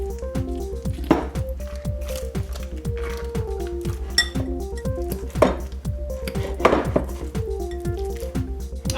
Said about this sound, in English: Just mix it up until the cream cheese gets nice and soft.